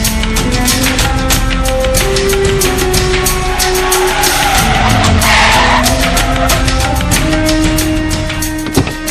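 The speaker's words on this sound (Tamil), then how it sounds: "ஐயோ, அதுதான் ராஜமாணிக்கம் வண்டி." A car driving past with tyres skidding and squealing, loud and close, with a roaring engine, changing tone and a sharp knock near the end.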